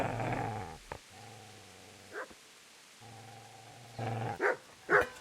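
A dog in Kingdom Come: Deliverance growls in low, rumbling stretches broken by a few sharp barks and yips, fairly close against a quiet background.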